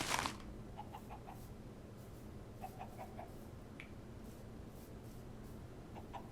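A chicken in the Minecraft modpack GregTech: New Horizons clucks in a few short, soft bursts over a low background hum, with a louder sharp click at the start.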